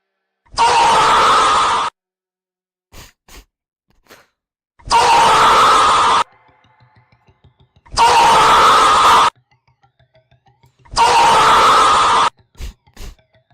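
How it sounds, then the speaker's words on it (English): Four separate synthesized screams made as sound effects for a Grace fangame, each a loud sustained burst of about a second and a half, with short clicks and quiet gaps between them. "Okay, scream, but like fades away."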